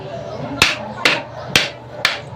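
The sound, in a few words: hammer tapping a 4x3 reducer pipe fitting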